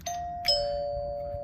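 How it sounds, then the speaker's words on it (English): A repaired home doorbell chimes once its button is pressed: two clear ding-dong tones, the second ringing on and fading slowly, loud and close with no talking. "So testing it, we should get a chime."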